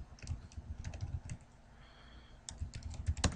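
Quick bursts of typing on a computer keyboard, key clicks tapping out a web address in two clusters separated by a short pause, close and fairly quiet with no voices.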